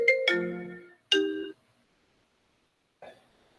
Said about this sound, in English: And I get a phone call in the middle of that